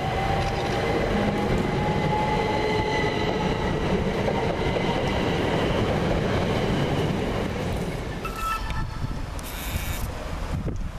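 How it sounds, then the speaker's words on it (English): Class 377 electric passenger train departing Havant station, a continuous loud rumble and rolling wheel noise with wind buffeting, steady throughout and no talking. "Just now leaving the 1332 service from Littlehampton to Portsmouth and Southsea, 377417."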